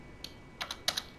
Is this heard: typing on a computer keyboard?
yes